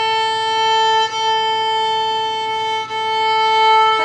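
A string instrument's sustained A note, lowered in pitch with a fine tuner, holds steady with bright harmonics, broken by two short dips as the bow changes.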